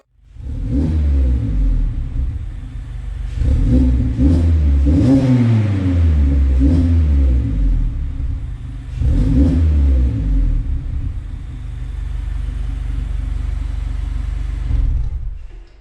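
A Mazda MX-5 drives around a parking lot, its engine rumbling loudly and revving in repeated surges that rise and fall over about fifteen seconds, close and steady with no voices.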